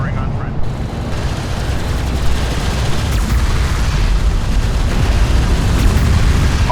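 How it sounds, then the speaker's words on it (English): Heavy weapon fire from an enemy railgun in Homeworld: Deserts of Kharak, a dense continuous barrage of booming blasts and rumble, loud and sustained throughout with battle noise and a radio-style voice faintly underneath. "Enemy railgun firing on front."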